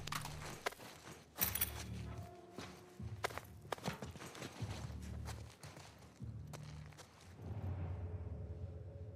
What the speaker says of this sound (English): that's why I keep hearing the footsteps from